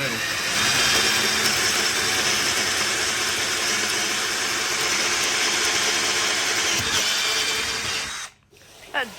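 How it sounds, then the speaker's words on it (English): A power drill bores holes in wood in a sawmill shed, its steady loud whine running unbroken for about eight seconds before cutting out abruptly. "That definitely drills much easier than the metal does."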